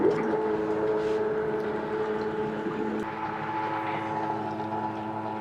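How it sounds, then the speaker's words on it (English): A small pump runs steadily to flush a tankless water heater with vinegar, a continuous close motor hum with a droning tonal whine that holds level throughout, with no talk. "now I'm going to plug in the pump and hope for the best"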